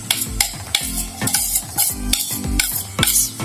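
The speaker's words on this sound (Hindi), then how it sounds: "मसाले डाल के अच्छी तरह इनको मिक्स करके" Keema mince with turmeric, crushed and ground red chili and salt is stirred in a pan with a spoon. Rhythmic scraping strokes repeat about every half second over a soft sizzle, with no talk.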